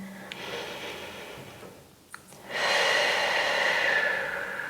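Deep breathing held during a yoga pose. A slow intake gives way to a long, loud exhale that rushes out and then tapers off, close to the microphone with no talking.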